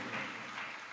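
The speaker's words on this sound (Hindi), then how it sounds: "अब इसमें ताली बज गई।" An audience claps during a live religious discourse in Jabalpur, a brief burst of dense applause heard at moderate distance.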